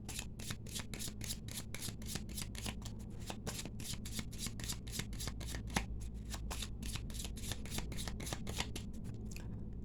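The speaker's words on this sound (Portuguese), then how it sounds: "Então embaralhei pra gente" A deck of tarot cards being shuffled by hand, a fast, even run of crisp riffling snaps repeating steadily up close with no talking.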